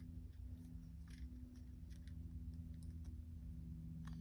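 Half round jewellery wire is cut from its spool with cutters, giving a few faint, scattered metallic clicks over a steady low hum.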